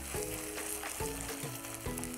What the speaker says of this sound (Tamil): வெங்காயம் முக்காவாகிட்டு வதங்கிடுச்சு